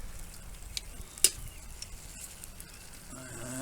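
Baby bell peppers sizzle on a grill, a soft steady crackle and hiss with one sharp pop partway through, fairly quiet and without any talking.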